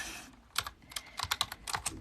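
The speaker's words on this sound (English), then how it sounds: "I'm typing." Computer keyboard keys tapped in quick irregular bursts of sharp clicks, close and moderately loud, with brief pauses between clusters.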